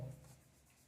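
Pen or marker scratching briefly across a board or paper while a chemical formula is written, a soft close rub fading into quiet.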